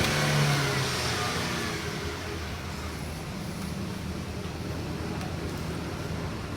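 Car engine revving at a nearby car repair workshop, a loud steady mid-pitched drone that swells at the start and then holds on, continuous with no voices.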